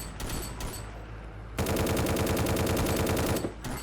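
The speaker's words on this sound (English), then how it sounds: "gives you a reason for shooting all these zombies" Rapid machine gun fire from shooting zombies in the VR game A Terrible Place, starting with a few shots and then a dense, loud sustained burst of about two seconds, with more shots trailing at the end.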